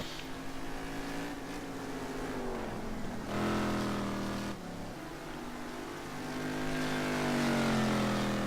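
Racing cars lapping the Spa circuit in a racing video game, including a Mercedes GT car in qualifying, engines droning steadily with shifting pitch as they accelerate and change gear, loud and continuous without talk.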